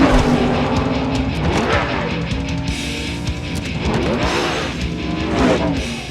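Race cars roar around a track during a film's final race, engines loud and continuous with rising and falling pitch as cars sweep past, one after another, over a dense crowd-and-track backdrop.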